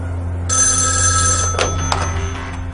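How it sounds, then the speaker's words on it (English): A telephone rings in a 1972 true-crime reenactment, with a bright, sustained electric bell burst followed by a few sharp clicks, loud and close over a steady low hum. "Sheriff Crowder receives a phone call"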